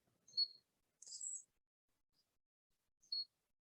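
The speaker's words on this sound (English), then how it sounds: "Hey birds, how are you guys?" Outdoors near home, a few short, faint bird chirps ring out in near silence, two brief tweets separated by a slightly longer trill.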